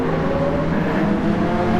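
Honda NSX touring car engine roaring at Laguna Seca in a racing video game, a loud steady high-revving drone held throughout with no talk.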